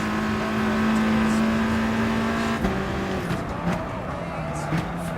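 A Scirocco Gr.4 race car accelerates on Dragon Trail in Gran Turismo Sport, its engine holding a steady droning pitch, then dropping and shifting through gear changes, loud and continuous with faint talk underneath.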